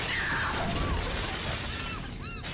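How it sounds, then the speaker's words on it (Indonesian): A mirror bursts into shards in a horror film, a loud crash followed by glass fragments tinkling and scattering, under a dense, swelling background score. "cermin itu pecah."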